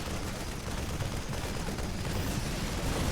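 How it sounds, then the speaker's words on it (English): Rapid gunfire-like shots from Liberator units in a StarCraft 2 Protoss versus Terran match, a dense continuous volley of bursts and explosions filling the whole stretch without pause. "Got a couple Liberator shots firing forward as well."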